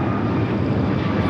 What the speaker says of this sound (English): The United at 757 heading to Kona, finally taking off there on the north.